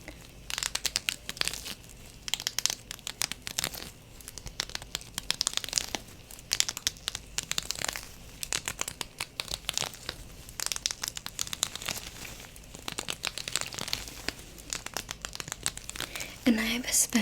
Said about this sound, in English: I want to just brush through your hair